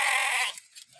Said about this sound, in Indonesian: Kambing.